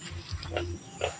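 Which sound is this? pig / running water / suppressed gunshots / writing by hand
pig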